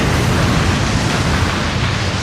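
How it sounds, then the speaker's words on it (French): A massive explosion rips through a city block, heard as a continuous loud, dense roar of rumbling blast noise with no distinct onset, sustained at full strength throughout. "une formidable explosion réduit tout le pâté"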